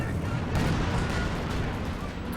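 Tank cannon fire and battle din from Company of Heroes 2, with a Jackson tank destroyer firing at a Sturmpanzer; dense, continuous rumbling booms and gunfire fill the whole stretch at steady loudness.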